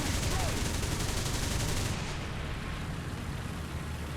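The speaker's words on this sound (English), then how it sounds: "It's a lot of fun to shoot these AAs. Incredibly rapid fire." An anti-aircraft gun from the Soviet lineup in War Thunder fires rapidly, a dense loud stream of shots for about two seconds that then stops, leaving a quieter rumbling tail.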